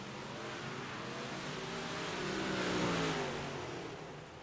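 Big Block Modified race cars roar past on an oval track at I-55, a broad engine drone swelling and fading as the pack sweeps through the turns at a distance.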